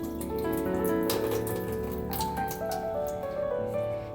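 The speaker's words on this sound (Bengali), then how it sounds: "চালটা ধোয়া হয়ে গেছে" Soaked Gobindobhog rice being washed under running tap water, a steady close rush of water splashing and swishing over grains in a kitchen sink, continuous with brief sloshing bursts.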